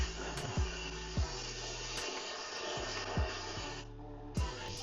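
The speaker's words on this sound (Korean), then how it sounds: "이렇게 표면으로 떨어진 마른 분진들은 건식 청소기로 석션하면 잘 빨리죠" A dry vacuum cleaner sucks up fallen dry dust while a home is cleaned before move-in, giving a steady whooshing roar broken by several short bumps and knocks as the nozzle moves, with no talking.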